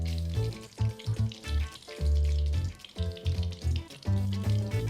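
Hot butter hisses and crackles as it is poured over İskender kebab, a close sizzle rising and falling in uneven bursts with no talking.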